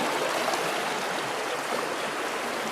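A river rushes past close by, a steady broadband wash of flowing water that stays loud and even throughout with no voices.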